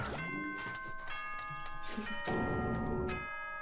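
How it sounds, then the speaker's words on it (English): Chime from the video game Danganronpa 2, a few bright, sustained bell-like tones layered over game music, ringing clearly and held across the whole stretch. "That chime just now."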